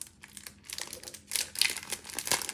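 A pack of alphabet Pipsticks stickers being opened, with quiet crinkling and rustling of plastic packaging in irregular bursts that grow busier toward the end, close and with no voices.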